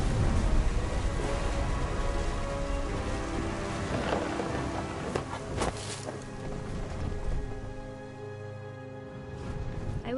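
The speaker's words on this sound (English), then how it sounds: "The thunder sounded much too close and full of angry power." Steady rain pours in What Remains of Edith Finch, a dense continuous hiss with occasional louder cracks and low rumbles of thunder rolling through.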